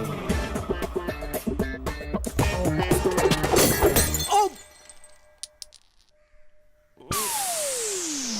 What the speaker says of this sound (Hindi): भैया, कॉफी का कप टूट गया।